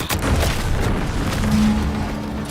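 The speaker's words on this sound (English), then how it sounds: "What's that? An explosion?" Deep booming explosion in the video game Outer Worlds 2, a loud low rumble sustained across the clip with a brief tonal hum partway through, no voices.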